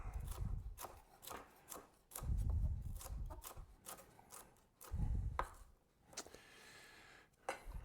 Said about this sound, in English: Here I'm just going to kind of give these a nice rough chop.